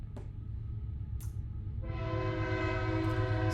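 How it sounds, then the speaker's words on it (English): A passing train sounds a loud, sustained horn over a low rumbling roar of railcars, the horn rising in and holding steady with no voices. "there's a train going by"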